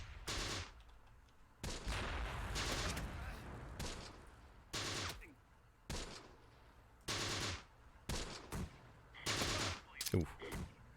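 Repeated bursts of machine gun fire in the WWII tactics game Close Combat: The Bloody First, coming in sharp clusters of several short volleys separated by brief pauses, fairly faint overall.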